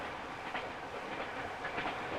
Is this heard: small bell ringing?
no